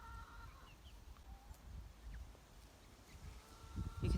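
Chickens and young fully feathered chicks clucking softly at a distance, with scattered faint calls over a low rumbling outdoor background that swells near the end.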